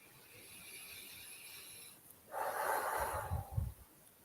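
A person breathes out in a long, soft, airy exhale during an energy healing exercise, close and quiet, after a faint steady background hiss.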